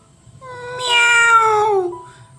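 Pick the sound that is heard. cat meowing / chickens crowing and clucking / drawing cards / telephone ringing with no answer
cat meowing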